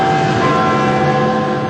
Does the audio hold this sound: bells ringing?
yes